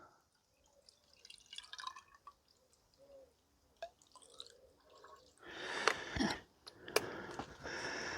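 Water dripping and trickling from the water pump of an Allis Chalmers B tractor, faint scattered drips at first, then a louder, denser splashing run of water in the final seconds.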